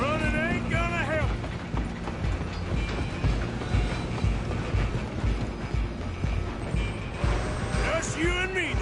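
Steady rumble and clatter of a moving train in Red Dead Redemption 2, rolling on continuously under game music and other sounds, with a few whistle-like tones near the start and end.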